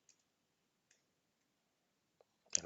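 A mouse click on a create course button in a web app: a few faint, sparse clicks in near silence, followed by a sharper, louder click-and-rustle burst at the end.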